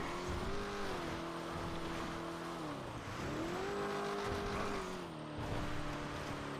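Video-game car in GTA NoPixel steadily driving and swinging through a hard turn, its engine drone dipping and rising again with continuous loud road noise and a tire-squeal edge, no talking.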